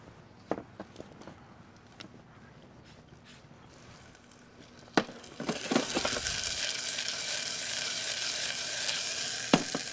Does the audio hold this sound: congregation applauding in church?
no